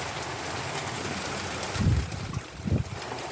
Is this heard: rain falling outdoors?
yes